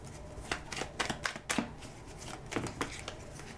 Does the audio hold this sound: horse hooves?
no